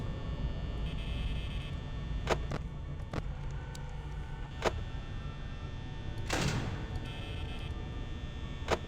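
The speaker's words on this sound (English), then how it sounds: "I'll close the door, why not?" In Five Nights at Freddy's, a security door drops shut with a sharp metallic slam that stands out from several softer clicks and knocks over a low steady hum, with no voices heard.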